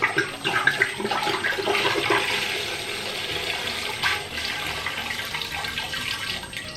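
Two bottles of red wine glug and splash steadily into a cooking pot for mulled wine, a continuous liquid pour heard close up with no talking.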